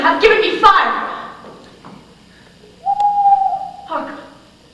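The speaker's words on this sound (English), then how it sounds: "It was the owl that shrieked." An owl hoot played as a stage sound effect in a high school theatre production of Macbeth: a single drawn-out, steady hoot that follows a stretch of people talking, with a softer voice coming in just after.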